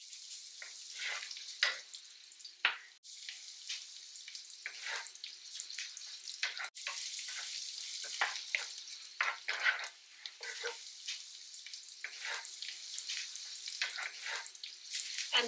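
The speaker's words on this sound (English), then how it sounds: "So now we are going to put our chopped garlic and then the olive oil" Chopped garlic and olive oil fry in a pan with a bright, steady hiss and crackle, punctuated by bursts of spattering and a couple of sharp clicks, close up and continuous.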